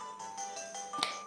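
Vokit phone ringing by itself in Pokémon White, a short bright electronic chime with a couple of tonal notes and a sharp ping near the end, fairly faint and heard alone.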